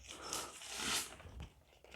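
A sharpened golok machete blade drawn from base to tip through a sheet of paper, giving a close, crisp tearing slice with light crunchy rasps, fairly quiet, no voices.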